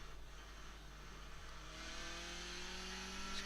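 A Skip Barber race car in iRacing at Okayama holds a steady engine drone that swells louder as revs climb after a downshift to first gear, the tones gliding upward.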